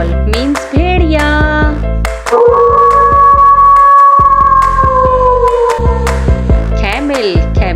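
A wolf gives one long, sustained howl that holds steady for several seconds before trailing off, set against a steady background music bed with short animal-like calls before and after.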